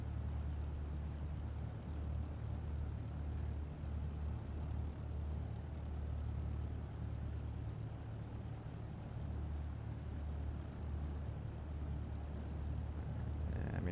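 A small aircraft's engine drones at full power during a takeoff roll in Microsoft Flight Simulator 2024, a steady, loud low hum with propeller buzz that stays constant throughout without talk.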